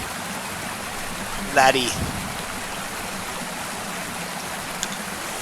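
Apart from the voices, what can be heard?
waterfall in video game Fishing Planet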